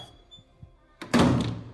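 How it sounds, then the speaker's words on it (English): A door bangs open with a loud smack after a quiet stretch with faint low knocks, the sharp impact followed by a short, noisy rattle that fades over the next half second. "The door opened with a loud smack."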